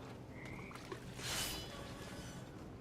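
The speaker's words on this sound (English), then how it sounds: "And toads." Toads croak in the video game What Remains of Edith Finch, faint and low against a steady murky ambient bed, with one brighter swell midway.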